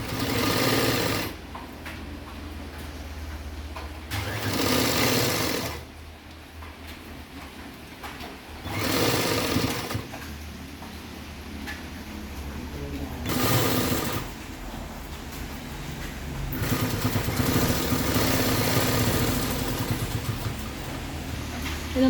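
Sewing machine stitching a frock-style nighty, running in long steady buzzing bursts with short pauses between seams, close and fairly loud, with no talking.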